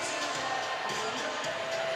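A hockey crowd cheers at a game, a steady roar of many voices with scattered whoops filling the arena at moderate distance.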